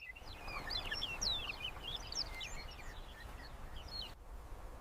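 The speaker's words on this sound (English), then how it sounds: "The morning birds carry warnings across the woodland." Several birds call and chirp across a morning woodland, a busy overlapping chorus of short high notes held fairly steady over a low rumbling background.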